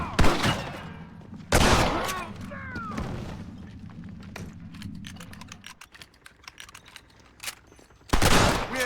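Gunfire in a Red Dead Redemption shootout on Xbox 360, with several loud, sharp blasts standing out over a steady crackle of rapid shots, close and intense throughout.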